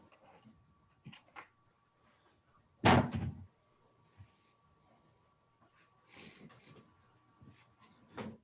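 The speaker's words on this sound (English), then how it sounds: "I got to close my door." A door pulled shut in a home during an online meetup lands as one loud, close thud, with soft rustles and small knocks before and after.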